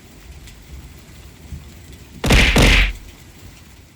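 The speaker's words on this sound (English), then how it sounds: "Oh my goodness, we got the thunder going on." A short loud burst of thunder crashes alone for about a second during a Final Fantasy XIV: Heavensward game stream, over a faint background hiss.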